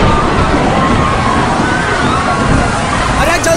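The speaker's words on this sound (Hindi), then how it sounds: "समंदर में टाइड आ गया तो अचानक पानी बहुत बढ़ गया कॉटेज की ओर" Sea tide water surges toward a seaside cottage in a loud, constant rush of sloshing, churning waves that fills the whole stretch without pause.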